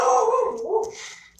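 Lily the dog gives a drawn-out, howling bark that bends in pitch, followed by a softer yip, nearby and fairly loud indoors.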